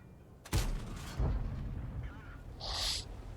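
A Foch 155 tank destroyer gun fires in World of Tanks, a sharp booming blast followed by a second thump and a rumbling tail, with a brief high whine afterward, heard fairly faintly.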